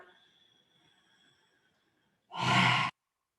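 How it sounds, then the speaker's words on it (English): A single deep breath during a Forrest Yoga session, a soft broadband whoosh of about half a second, close and fairly loud after a quiet stretch. "Breaths in and out."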